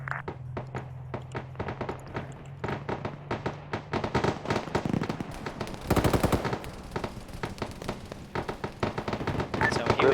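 Dense video-game gunfire shooting down a Huey helicopter in a military op: rapid machine-gun bursts crackling almost without pause, loud and close, with a heavier fusillade in the middle and faint voices underneath.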